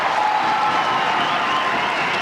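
An indoor crowd of Dundee supporters at an international indoor hockey tournament applauds and cheers a goal, a dense, steady roar of clapping and shouting that stays loud throughout.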